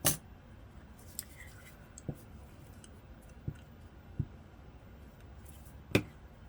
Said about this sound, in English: I'm just going to cut this edge off